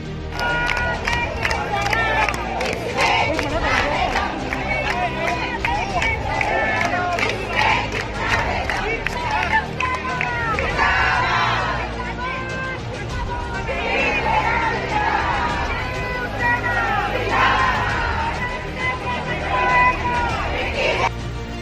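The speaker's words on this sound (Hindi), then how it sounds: "मातोश्री पर शिव सैनिकों की भीड़" Large crowd of Shiv Sainiks massed outside Matoshri, the Thackeray residence in Mumbai, a dense continuous roar of voices, shouting and chanting that stays loud and steady throughout.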